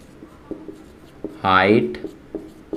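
Chalk or marker writing on a board during a class 10 physics lesson on lenses, a few short scratchy taps and strokes, with a teacher's voice speaking briefly in between.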